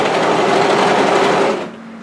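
An overlocker runs steadily, stitching the seam of a raglan top in a continuous loud whir, then stops and leaves a faint hum.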